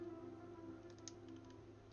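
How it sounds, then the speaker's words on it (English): Soft, rapid keystrokes on a computer keyboard patter in a short burst, faint and close over a steady low hum, with no one talking. "Oh, finally I can stop typing."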